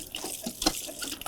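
Water gushing from a primed village hand pump, a short continuous splashing rush with one stronger surge midway, close and alone.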